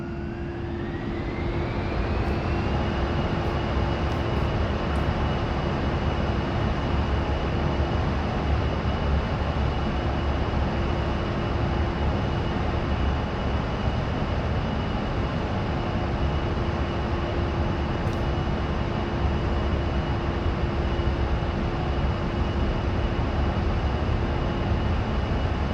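Twin jet engines of an A-10C II in DCS spool up for takeoff, a whine climbing in pitch over the first seconds then settling into a steady, loud, sustained roar with a constant tonal hum.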